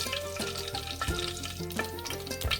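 Whole cloves, cinnamon, cardamom and a few peppercorns fry in hot coconut oil for pepper chicken, a continuous close sizzle with light stirring, set against background music.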